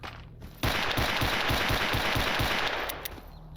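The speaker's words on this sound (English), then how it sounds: "you just fire all of your guns endlessly" Rapid automatic gunfire in S.T.A.L.K.E.R. Anomaly with unlimited ammo, a loud close burst of evenly spaced shots lasting about two seconds and then trailing off.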